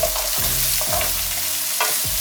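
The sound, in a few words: mushrooms frying in oil and being stirred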